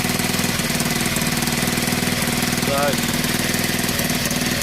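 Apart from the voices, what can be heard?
Honda XL 125 motorbike engine running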